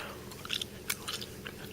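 Gum is chewed close to the microphone during an ASMR gum tasting, giving soft wet clicks and smacks in an irregular rhythm against a quiet background.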